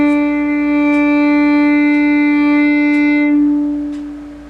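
A violin bowed on the open D string in a crescendo, one long steady rich tone that grows louder, then eases off at the end, played alone and close.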